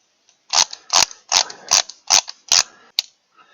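A torque wrench set to 120 inch-pounds gives six sharp, evenly spaced mechanical clicks, then one lighter click, close and clear with no talk, while work is done on a 2013 Hyundai Elantra engine.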